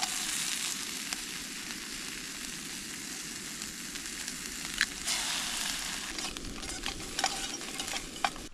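An egg fries in a non-stick pan outdoors at a hammock camp, giving a steady close sizzle with a few soft scrapes and clicks near the end.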